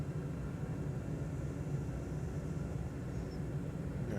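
Steady, droning piston engine of a Diamond DA40 NG light aircraft in Microsoft Flight Simulator 2020, a continuous loud hum that holds even throughout with no voices over it.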